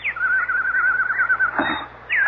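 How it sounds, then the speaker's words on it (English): A single bird sings a sustained warbling whistle, steady and fairly close, then breaks into a short burst of lower fluttering notes and starts another rising phrase, heard alone against a quiet background. It is presented as a very rare nightingale. "That's a very rare nightingale."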